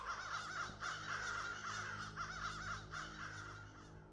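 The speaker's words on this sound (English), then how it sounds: "The bird scared the shit out of me" A crow caws repeatedly in the horror video game The Beast Inside, harsh rasping calls strung together over a few seconds against a dark ambient backdrop, fairly close and with no talking.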